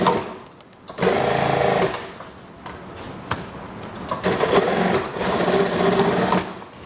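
Sewing machine stitching the elastic waistband of a long skirt, its motor whirring loud and near in several runs, with short stops and handling clatter between them.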